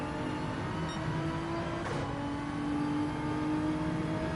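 Race car engines in Gran Turismo 7 during a World Manufacturer qualifying race, Hyundai and Nissan cars among them: a loud, steady engine drone that holds on and swells slightly toward the end, with no voices.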